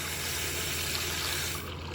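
Water runs from a household tap in a steady, full rush that holds for nearly the whole moment, then eases slightly at the end.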